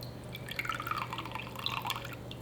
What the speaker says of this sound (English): the amount of water that I'm adding for the same amount of flour